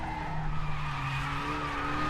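Renault touring car in the RaceRoom racing game sliding under braking at the Nürburgring GP circuit, a steady tire scrub and squeal over a droning engine note for about two seconds, loud and close, with no talk.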